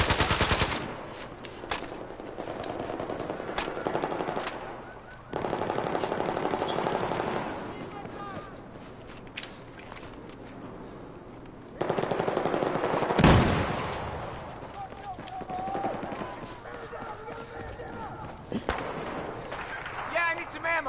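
Battlefield 4 combat gunfire, a dense continuous rattle of automatic weapons and shots at moderate loudness, with heavier bursts and a sharp crack, and people talking over parts of it.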